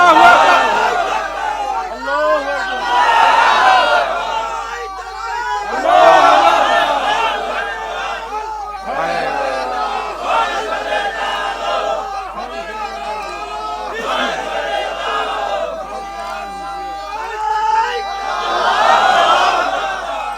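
Large crowd at an Islamic religious gathering in Bangladesh chanting the takbir in loud, surging waves of massed voices, several rising bursts of shouting filling the space one after another.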